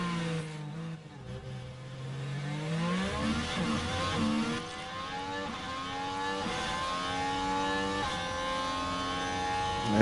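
Formula 1 race cars in the F1 Manager 23 video game roar past each other at the Red Bull Ring, engine notes rising and falling in pitch as cars overtake, loud and continuous for the whole stretch.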